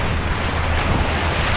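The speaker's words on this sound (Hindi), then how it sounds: "देखिए सागर की लहरों को देखिए।" Sea waves at Kanyakumari surge steadily around a ferry, a broad continuous roar of surf mixed with wind buffeting the microphone, loud and close with no voices.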